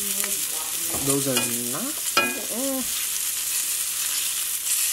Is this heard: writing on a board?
no